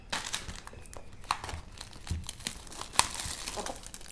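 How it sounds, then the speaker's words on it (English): Plastic wrap crinkles and tears as it comes off a Xiaomi 11T phone box. The handling noise is close and irregular, with a few sharper rips, and no one speaks. "First, let's remove this plastic."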